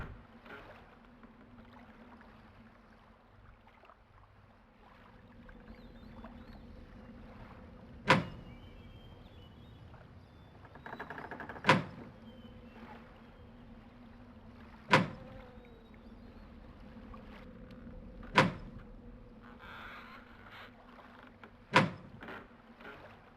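A door opening in the Riven video game, heard as a loud, sharp mechanical clank over a low ambient hum. It comes five times, spaced every few seconds, with faint rumbling between the hits.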